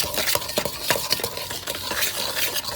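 Dry flour mixture being whisked in a bowl to aerate it and break up lumps for lumberjack cookies, a steady scraping, stirring rustle with repeated light strokes, close and continuous with no talking.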